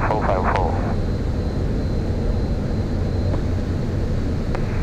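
Engine drone of a private jet in flight, throttled back during the climb, a steady broadband roar throughout with a brief voice at the start.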